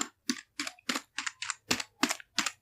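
Someone types the word subscribe as watermark text in Microsoft Word on a computer keyboard: nine crisp, distinct keystrokes in a fairly even rhythm, close and clear over quiet.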